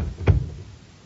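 A front door shuts with a single dull thump close by, followed by a brief fading resonance in a quiet room.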